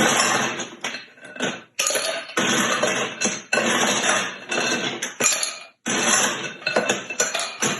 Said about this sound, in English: We're going to shake it up a little bit. And then we're going to put it on ice.